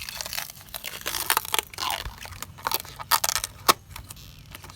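Plasti Dip coating peels off a car rim in crackling, crinkling tears with sharp snaps and rustles, close and irregular, no talking.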